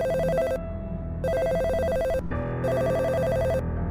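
A telephone rings unanswered in a house, its electronic bell trilling in repeated bursts over a steady musical backdrop, loud and continuous with no voice answering.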